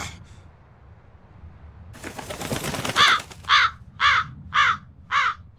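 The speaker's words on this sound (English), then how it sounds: "That crow just flew off with the coin." A crow caws repeatedly in the video game Tales of Berseria, five evenly spaced harsh calls ringing out clearly after a burst of rustling noise.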